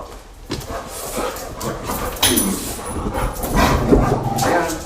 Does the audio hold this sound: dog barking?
yes